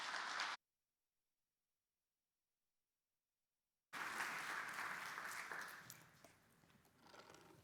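An audience at the IACE podium applauds to welcome Nancy Pearcey: brief clapping, a gap of silence, then a full burst of applause that gradually thins and fades.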